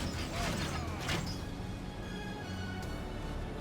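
Crossbow bolts loosed and striking a hilltop in a Total War battle, heard as a dense mechanical clatter and creak under steady battlefield din, with a few sharper impacts.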